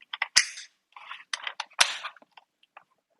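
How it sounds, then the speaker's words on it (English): Charging handle of a G-Shotoy M4A1 gel ball blaster pulled back to prime the magazine, giving a quick run of sharp plastic clicks and ratcheting snaps in two short bursts, close and dry with no talking. "you can pull back the charging handle, And you can hear that priming the magazine"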